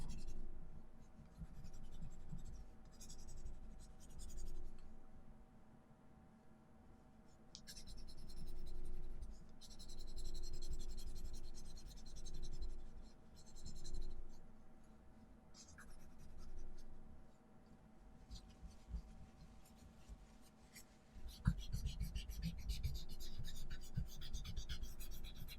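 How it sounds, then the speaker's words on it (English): A soft 4B graphite pencil shading skin on paper during portrait drawing, with faint scratchy strokes in irregular bursts over a quiet steady hum, including a slightly louder stretch near the end. "So I'm going to go in with that 4B pencil as well on the neck a bit."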